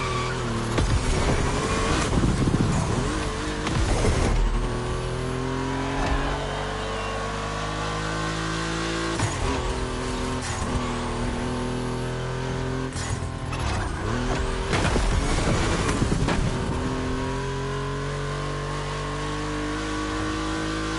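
Volkswagen race cars in The Crew Motorfest lapping a track, engines revving and shifting through gears with loud passes and swells of acceleration, sustained and close for the whole stretch.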